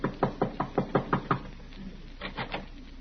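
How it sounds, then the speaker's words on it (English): Knuckles rap on an apartment door in a quick, even run of seven knocks, then after a pause three softer, hesitant raps; close and clear with no talk. "he is tapping a bit nervously at the door of Miss Jessup's apartment"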